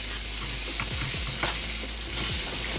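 Vegan breakfast ingredients stirred around a frying pan, a steady sizzle filling the background while several soft scraping strokes sweep through the mix, with no voices.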